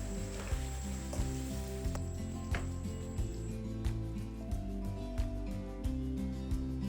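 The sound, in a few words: fried pizza filling simmering with cream, salt, garlic, onion, pepper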